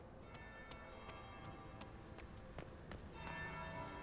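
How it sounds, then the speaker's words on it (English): A church bell rings in repeated strokes over a steady background wash like rain, with the tolling growing a little louder and fuller near the end. "That's the bell."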